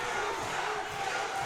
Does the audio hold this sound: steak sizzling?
no